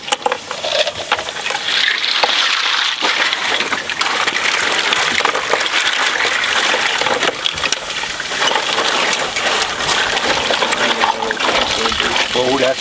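Running, splashing water hosing down freshly harvested oysters, a steady loud gush with clattering shells throughout, while people talk over it.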